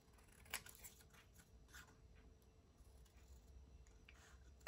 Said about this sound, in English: Let's cut field notes out and see what it looks like.